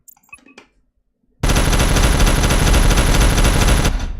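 Point defense turrets in the Hunt of the Reptorians game open up in a sudden, loud, rapid burst of automatic fire. The burst keeps going steadily for about three seconds after a short, quiet stretch of scattered small sounds.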